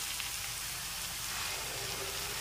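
Spices and ginger-garlic paste sizzle and fry steadily in a pan for a Bengali-style silver carp fish curry, a continuous crackling hiss with no talk.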